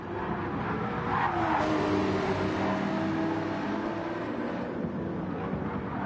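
Race cars from Gran Turismo 7 at Deep Forest Raceway roar past in a close pack, engines droning and shifting pitch as they accelerate toward the hairpin, loud and continuous with no talk.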